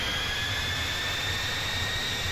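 The jet engine of an MB-339 spools up in DCS World, giving a continuous broadband roar with a steady high whine on top, even and unbroken throughout.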